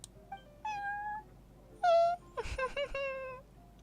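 Prince the cat meowing in Genshin Impact, a series of distinct close meows, some short and some drawn out, with a brief rustle and thump between calls and quiet gaps in between.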